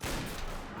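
Pistol gunfire in the Combat Mission: Battle for Normandy war game, a dense, continuous crackle of shots filling the whole short moment at steady loudness with no talk over it.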